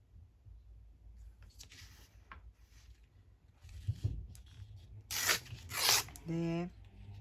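A paper book page is torn by hand for a craft pocket: a few faint rustles, then two loud, quick ripping tears close by toward the end, followed by a short buzzy scrape.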